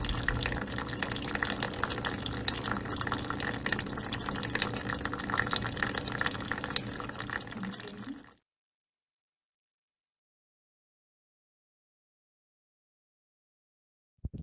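A thin stream of water runs steadily from a tap for about eight seconds, then stops, leaving silence until a brief click at the very end.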